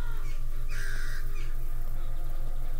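Crows cawing on a mansion roof in the indie game Eschaton, a few harsh caws over a steady game hum and ambient drone, no talking.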